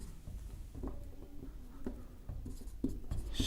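Chalk or marker on a board during a Hindi-language chemistry lecture on solid-state packing, producing faint, scattered strokes and taps in an irregular rhythm over a quiet room.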